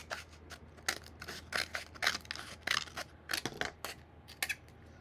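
Scissors cut around a paper cup for a basket craft, with a rapid series of close, crisp snips and crunches in an irregular rhythm.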